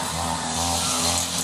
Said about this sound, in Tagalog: muli na naman kami naghalinhinan ni Kap sa paggamit ng grass cutter